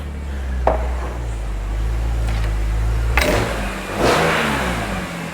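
A BMW M3 engine revving nearby, a sustained low mechanical drone with several sharp throttle blips rising and falling, the strongest bursts coming toward the end.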